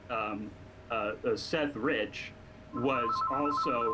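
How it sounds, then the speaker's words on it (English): A mobile phone rings with a repeating electronic trill that breaks in under a man's ongoing speech during an interview, the ring fairly prominent beside his voice. "sorry, that's my phone"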